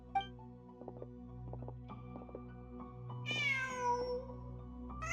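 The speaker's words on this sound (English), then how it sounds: "Just a cat." A cat in the Genshin Impact video game lets out a single clear, drawn-out meow over soft game music and faint ambient tones.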